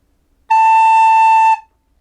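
One steady recorder tone, the note A, sounds alone for about a second, pure and breathy, then stops cleanly into quiet.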